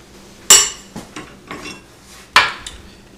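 Bars of a homemade xylophone set down one after another onto the frame, giving a handful of sharp wooden clacks and knocks at uneven intervals, two of them louder, with quiet pauses between.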